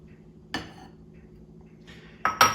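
A spoon stirs egg into a cheese filling in a bowl for puff pastry appetizers. A few sharp, separated clinks against the bowl stand out over quiet kitchen ambience, with the last two landing close together near the end.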